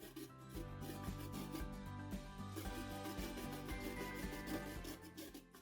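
A fresh, washed beetroot with its peel on is rubbed against a grater in steady repeated strokes, a scraping rasp close up under soft background music.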